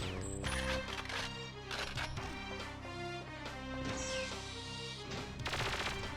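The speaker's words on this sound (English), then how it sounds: "Why these guns sound like lasers?" Sci-fi gunfire in the video game Perfect Dark, rapid bursts of sharp laser-like shots with zapping tones, repeated in clusters against a busy game soundscape.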